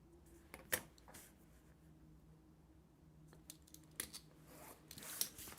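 Scissors snipping through paper, a few crisp, close cuts spaced apart, with quiet rustling between them.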